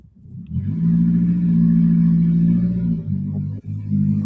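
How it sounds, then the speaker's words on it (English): A motorbike revs nearby in a neighborhood, a loud, steady low engine drone that holds for several seconds, dips briefly, then picks up again. "who's revving a motorbike in their room?"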